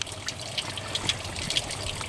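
A garden hose runs steadily, trickling and splashing as it flushes the radiator of a Jeep Cherokee with a 4.0 engine, a close, continuous wash of water with small droplet spatters and no voices.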